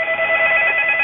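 A telephone rings with an incoming call, its steady electronic tone sustained at moderate volume over a radio-band backdrop, with no talking.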